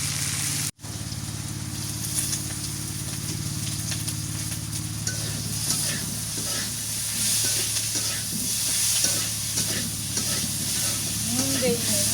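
Onion, ginger and garlic paste stir-fried in a pan: a steady, close sizzle with scraping stir strokes running throughout, briefly cut by a short gap near the start.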